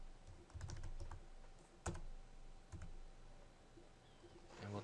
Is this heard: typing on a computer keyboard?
yes